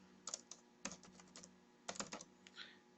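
Quiet bursts of keystrokes on a computer keyboard, clustered taps in quick groups with short pauses between, close and faint, no talking.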